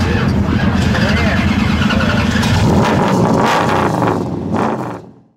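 An American muscle car engine roars loudly and steadily, a dense, throaty rumble that holds for several seconds before cutting away and fading out at the end.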